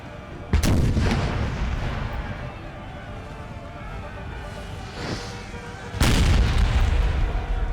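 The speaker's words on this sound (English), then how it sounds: "They fired cannonball shot instead of canister" Cannons firing cannonball shot in the Napoleon Total War battle game: two loud booming blasts several seconds apart, each with a long rumbling decay over ongoing battlefield noise.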